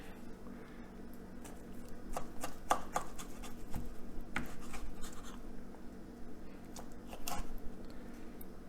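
A knife slices through an air-fried jalapeno popper down the middle, giving a series of short, close crunchy cuts and taps on a board at an uneven rhythm.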